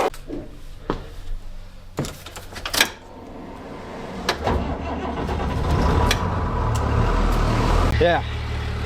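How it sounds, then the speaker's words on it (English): A school bus engine cranks in several short bursts, then catches and settles into a loud, rumbling idle close by, with voices talking over the early cranking attempts. "might as well just go ahead and fire up this school bus"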